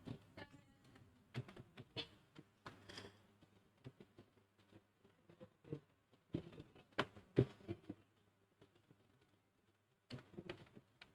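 Hobby names tapped out on a computer keyboard, a quiet, close series of uneven key clicks coming in short clusters with brief pauses between them.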